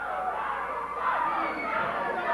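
Wrestling arena crowd at a 1991 USWA show yelling for Jerry Lawler's DDT, a dense, continuous roar of shouting and chatter that swells slightly midway.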